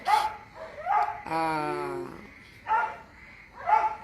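Neighbours' dogs barking in short bursts, with a sustained whining, yelping howl in the middle, heard behind someone speaking indoors.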